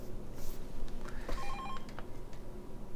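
A telephone rings briefly in a short electronic trill over a low room hum, moderately near, with no talking.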